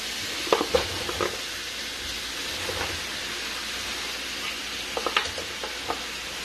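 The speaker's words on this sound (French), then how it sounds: "J'ajoute ensuite la viande découpée." Cut meat dropped into okra sauce with red palm oil, sizzling and frying steadily, with a few sharper spatters and stirring clicks over a constant crackling hiss.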